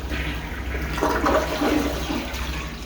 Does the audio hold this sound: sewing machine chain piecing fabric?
no